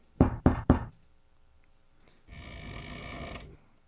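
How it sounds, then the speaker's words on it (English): Three hard knocks land quickly on a bedroom door in a radio drama, loud and close, followed after a pause by a soft rustling mechanical rattle. "Better knock harder."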